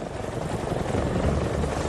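A refitted Royal Air Force Chinook helicopter's rotors give a steady, loud, thudding roar that stays constant throughout with no pauses.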